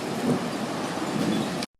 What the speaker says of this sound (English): Oh, there's a hail. Here comes the hail.